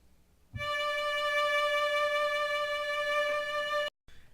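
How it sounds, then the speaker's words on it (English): After a brief quiet moment, a violin plays a D note on the A string in first position: a single long bowed tone, steady and harmonically rich, held for over three seconds before stopping abruptly. "Now we play a D."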